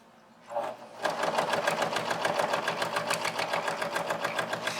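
Sewing machine stitching an iPad cover over a thick seam, running in a fast, steady rhythm of stitches after a brief start-up, close and fairly loud, with no talk.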